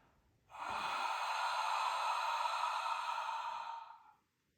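A long, steady ujjayi exhale pushed through a constricted throat, a close, breathy whispering hiss that rises quickly, holds evenly for about three and a half seconds and then fades, alone with no talking.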